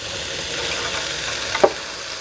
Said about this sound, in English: Now I'm going to add the beans, which I have drained.